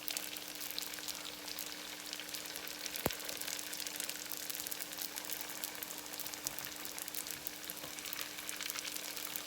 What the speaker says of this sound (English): drop them in the fryer